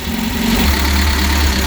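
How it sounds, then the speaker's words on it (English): A freshly rebuilt Reliant Supervan engine ticks over on its own at a steady idle, close and continuous, with no talk. "That is ticking over on its own for the first time since I've rebuilt that engine"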